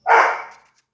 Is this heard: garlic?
no